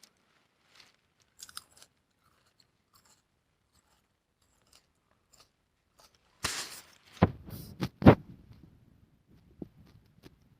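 Chewing on a piece of habanero pepper, a few crunchy bites close to the mic around the middle of an otherwise quiet stretch, with faint small rustles before.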